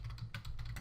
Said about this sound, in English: I'm going to start typing